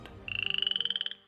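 A Sehuencas water frog from a Bolivian cloud forest gives one close, clear croaking call, a rapid pulsed trill of about twenty quick notes lasting under a second, alone with no other sounds.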